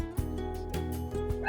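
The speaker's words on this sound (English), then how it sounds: "I'm going to close the door so that the dog, apparently she's going to be barking." Ruby Doo, a dog shut behind a door, gives a series of muffled barks and yips in quick succession at moderate loudness, with no voices over them.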